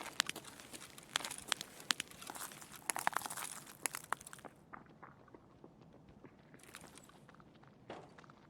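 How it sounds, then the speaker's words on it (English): Footsteps of a sniper scav running around in Escape from Tarkov: quick, crunchy steps with crinkling scuffs, dense and fairly close at first, then sparser and fainter with gaps near the end. "it's a sniper scav that we hear running around like a psycho"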